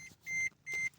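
A hybrid car's warning bell chimes twice in a short, even rhythm, each a clear electronic tone held briefly, faint against a quiet cabin.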